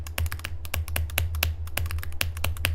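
Rapid, close clacking on a computer keyboard being checked for dropped clicks, with keystrokes falling in an irregular, busy rhythm over a constant low electrical hum and no voices.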